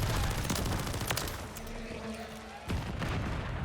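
Rapid bursts of automatic gunfire with booming impacts in Call of Duty MW3, dense and loud, with a short lull midway before the shooting resumes.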